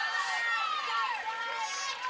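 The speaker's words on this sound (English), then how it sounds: "you hear the entire crowd go, oh, Oh" A college softball crowd at an Oklahoma vs Iowa State game lets out a long rising 'oh' as a deep fly ball carries toward the warning track, a broad wash of many voices filling the whole moment.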